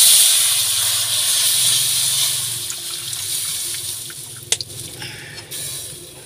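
Coconut milk pours into a pot of snails in a home kitchen, giving a loud, steady liquid hiss and gurgle that fades over several seconds and ends with a couple of clinks of utensils.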